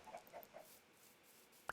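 Minecraft chickens cluck softly in a row of short, faint calls around a chicken egg farm, followed by a single sharper pop.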